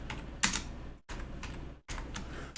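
Close computer keyboard typing while renaming a source in OBS: quick clusters of key clicks broken by two brief silent gaps, fairly quiet and with no talking.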